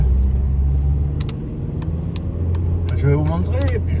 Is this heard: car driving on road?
yes